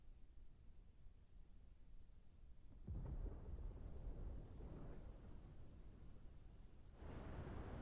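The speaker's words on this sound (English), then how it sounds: "Sounds like thunder." Thunder rumbles through a Final Fantasy XVI game scene, a low broadband roll swelling in near the three-second mark, lingering, then surging again toward the end over a steady ambient bed.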